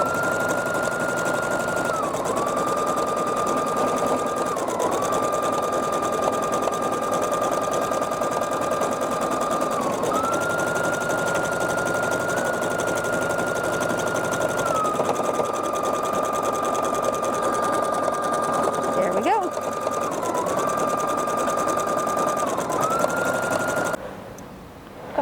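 A Sapphire 85 embroidery sewing machine stitches fabric, tracing a shape with a steady, loud mechanical whirr that holds for the whole stretch. Its pitch dips briefly every few seconds as the stitching changes direction. No one talks.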